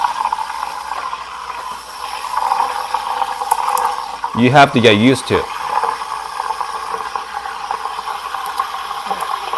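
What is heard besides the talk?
Rancilio Silvia espresso machine steam wand steaming milk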